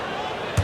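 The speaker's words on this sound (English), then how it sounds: "Here's Green, and Green slams it in." Brief heavy thump of a slam dunk in the basketball video game NBA 2K26, a single thud near the end over a steady arena crowd bed.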